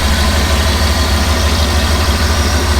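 A car engine idling while it warms up, a loud, steady low rumble with an even vibrating throb that holds constant throughout, close by, with no talk over it.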